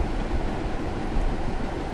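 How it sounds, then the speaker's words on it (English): A Union Pacific turbine locomotive in Train Simulator 2016 brakes gently, a steady broadband rumble and rolling rail noise with no talking, continuous and fairly loud. "I'm like feathering the brake, or at least trying to feather the brake as much as you can in a train."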